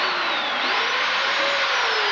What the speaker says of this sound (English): you can just cheat by getting your drill like that and just drilling